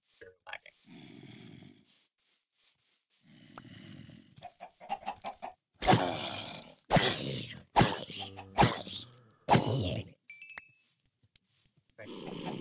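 Minecraft chickens cluck in short bursts among the game's grunting mob noises and clattering effects, spread unevenly over several seconds, moderately loud.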